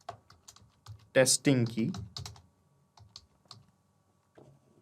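Keys on a computer keyboard are tapped to type a key name, giving soft, scattered clicks beneath someone speaking close by.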